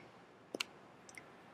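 A computer keyboard's escape key is pressed, giving two faint, quick clicks in a quiet room, each a sharp double tap, about half a second apart.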